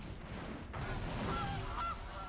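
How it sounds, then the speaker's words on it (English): A goose honks a few times in a short, fairly loud burst of nasal calls, heard alone without talking over it. "Goose."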